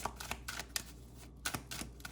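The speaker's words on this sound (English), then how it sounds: "let me shuffle better" Tarot cards being shuffled by hand, a run of soft, quick riffling and slapping bursts that come in short clusters, close and fairly quiet.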